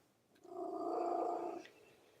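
A big fat cat purrs close by in a steady, continuous rumble lasting about a second and a quarter, rising in and fading out, with no talking over it.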